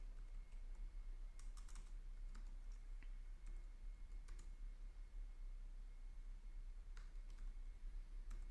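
Quiet bursts of keyboard typing on a computer keyboard, as a name is entered into a database report label, with scattered clusters of clicks over a steady low background hum.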